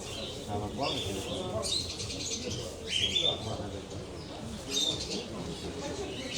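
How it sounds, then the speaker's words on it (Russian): Budgies and canaries at Luhansk's Central Market give scattered high chirps and tweets over a busy background of crowd chatter and market noise. "А здесь вот попугайчики и канарейки."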